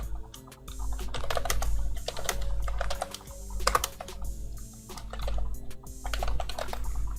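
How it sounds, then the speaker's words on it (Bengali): Rapid typing on a computer keyboard close up, bursts of crisp key clicks with brief pauses over a low steady hum. "এখন আমি একটা টেক্সট লিখে নিচ্ছি"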